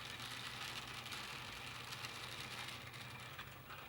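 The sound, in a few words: cranking an antique Mueller Model 2 chain stitcher sewing machine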